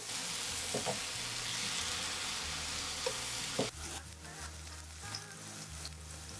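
Eggplant slices sizzle steadily in an oily pan while being browned on both sides, a continuous close hiss broken by a few light clatters as pieces are moved and flipped, the frying growing softer and more uneven toward the end.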